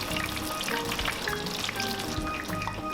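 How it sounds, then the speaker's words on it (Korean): A whole fish coated in seasoning deep-fries in boiling oil, giving a steady, dense crackling sizzle that stays close and loud throughout with no voices. "식용 수출 묻힌 생선을 통째로 끓는 기름에 튀기는데요"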